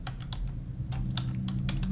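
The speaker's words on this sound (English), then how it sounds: "then we'll just start typing Dragons" Quick keystrokes clatter on a computer keyboard in a short, uneven burst of taps against a low steady background hum.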